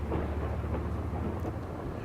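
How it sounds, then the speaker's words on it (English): A thunder effect from a film scene, timed just after a lightning flash, rolls as a continuous low rumble with a steady wash like heavy rain, sustained and dense throughout without any voices. "I made the lightning first and then thunder when Joel decides to turn around"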